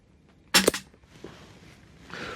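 A single sharp crack from a Rossi Montenegro .22 LR rifle fired outdoors, followed by a faint echo and quiet ambience with no talking.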